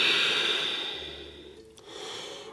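A long, close exhale during a slow-flow yoga class: a steady breathy hiss that gradually fades, followed by a softer breath at the end.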